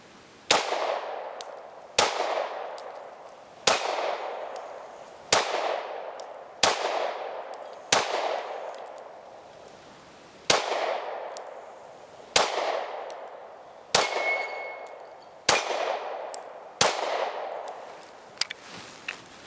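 Eleven sharp, evenly spaced pistol shots from a Taurus GX4XL, each a loud crack with a ringing tail, fired at a steady pace about every one and a half seconds with no talking.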